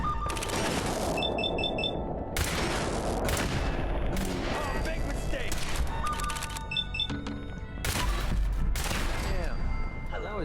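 Turret gunfire in Fallout 4: dense, loud bursts of automatic fire and heavy booms that pile up continuously, with electronic beeping tones and a voice talking over the battle.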